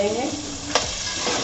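Marinated chicken that was fried earlier goes into a hot pan for chicken hakka noodles, giving a steady close sizzle with stirring scrapes and a sharp clatter partway through.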